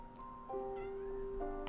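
A cat meows close by, one long rising and falling cry with clear tonal harmonics, followed by a second shorter meow.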